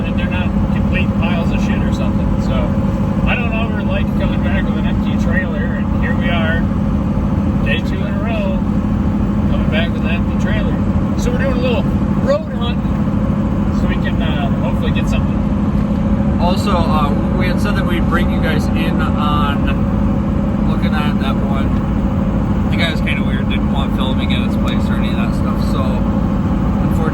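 A truck rolls along the road towing an empty trailer, its steady engine and road rumble droning loud and continuous throughout, with faint rattles and clatter on top and no one speaking.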